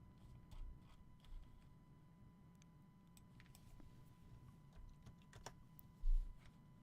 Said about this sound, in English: I'm going to type that in just to type it in